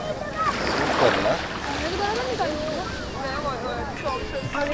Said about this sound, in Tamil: சும்மா சின்னதாக அவ்வளோதான் அலை